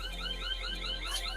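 Electronic alarm sounding continuously, a warbling series of repeated rising and falling tones at steady volume with a low hum underneath, no talking.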